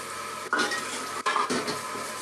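Dishes, pots and pans being washed: steady running-water hiss with metallic clinks and clatters of utensils, close and continuous, no voices.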